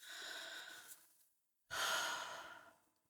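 Two deep breaths close to the mic: a long, airy exhale fades into a pause, then a strong, full breath starts abruptly and gradually trails off.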